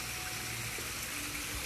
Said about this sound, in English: We're going to be soft washing the decks